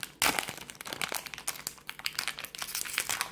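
A Pokémon TCG booster pack wrapper being opened up close, a burst of loud foil crinkling followed by repeated crackling, crumpling and tearing without talking.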